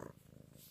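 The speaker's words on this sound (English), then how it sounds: "Purring." A pet cat named Bruna purrs close by in a low, steady rumbling rhythm, soft and continuous for a brief moment with no talking over it.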